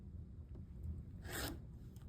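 Rotary or straight blade slicing through quilting fabric against a Tri tool template, a single short rasping cut about a second long, close and fairly soft over a low background hum.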